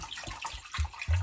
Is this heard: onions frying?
no